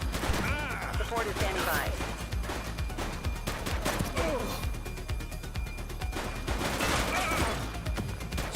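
Gunfire in the police game The Precinct: repeated sharp shots and crashing impacts are spread across the scene, mixed with radio chatter and a person speaking over the shooting.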